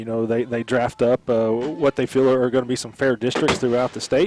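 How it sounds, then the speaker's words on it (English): Fireworks bang repeatedly in the background at a high school football game, Cashion at Pawhuska, sharp bursts scattered under continuous close-up talk from a man. "As you can hear the fireworks going off in the background there."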